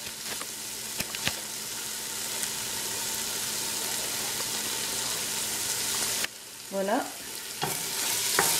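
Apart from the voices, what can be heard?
lamb meat searing in a pan on high heat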